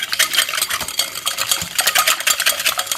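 Sugar being beaten into a mixture in a bowl, a fast, continuous rhythmic clatter and scrape of a whisk or spoon against the bowl, close and loud throughout.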